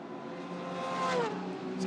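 A Porsche 911 GT3 race car sweeps past during GT Europe free practice at Circuit Paul Ricard, its engine note held steady and then dipping in pitch as it passes, heard at moderate distance with no talk.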